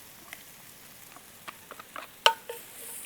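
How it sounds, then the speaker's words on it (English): Chili and garlic fry in olive oil, giving a faint, close crackle with scattered small pops and a couple of sharper spits toward the end. "So now I'm gonna add in my chili and garlic."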